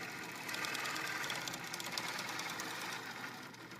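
An INNOVA quilting machine stitches cording with a quiet, even mechanical whir that runs continuously at low volume.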